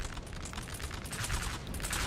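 Cannons fire in a Napoleon Total War battle, a dense, continuous roll of overlapping booms and crackling volleys with no voices.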